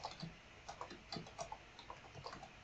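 Rapid clicking on a computer keyboard while code is written, an irregular patter of light keystrokes, close and quiet, with no talking over it.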